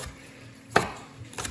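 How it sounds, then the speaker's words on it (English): A knife chopping spring onions on a cutting board: one sharp chop, then two softer cuts close together near the end of a short, otherwise quiet stretch. "you can pretty much just keep on chopping all the way"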